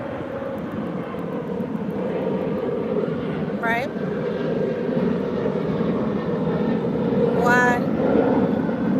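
Airplanes passing overhead make a steady, loud broadband roar that swells slightly toward the end, with brief talk over it.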